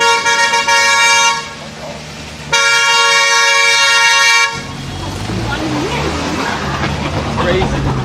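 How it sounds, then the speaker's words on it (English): Car horns honk loudly on a narrow winding hillside road in China, two long sustained blasts in a row, then fading into busy road noise and engine rumble with people talking in the background. "I think they honk coming around corners just to let you know because this road's so skinny"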